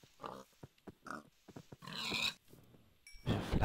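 A pig in the video game Minecraft gives a series of short grunts and oinks in an irregular rhythm, with a few louder, longer squeals among them, clear and close with no talking.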